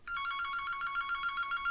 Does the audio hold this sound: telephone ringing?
yes